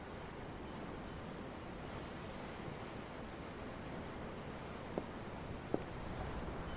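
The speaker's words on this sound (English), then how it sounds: "The waves. They help me think." Ocean waves wash steadily in Tales of Arise, a broad, even surf with wind across the whole stretch and no voices, broken by two faint knocks near the end.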